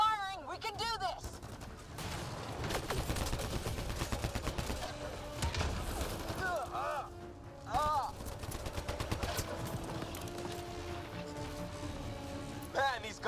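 Sustained gunfire in the video game Mass Effect Andromeda, rapid overlapping shots and bursts running throughout a chaotic firefight at low level, with occasional thuds and short shouted voice fragments in the mix.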